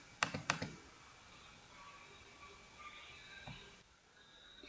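Computer mouse clicks during a virtual machine setup, two sharp close clicks near the start followed by a quieter stretch of faint desk noise and a softer tap later.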